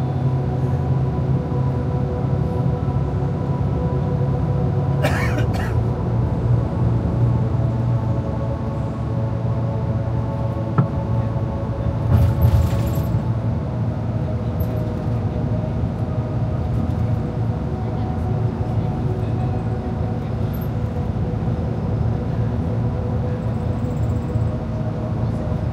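A metro train in the MRT/LRT area running toward Muzdalifah gives a loud, steady rumble with a constant low hum and brief high squeals, heard from close by without talking.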